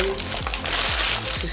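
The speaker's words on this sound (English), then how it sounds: "I'm just going to tear them" Paper scraps being torn by hand for inner journal covers, giving a close, bright ripping crackle that swells in the middle of the moment over a low steady hum.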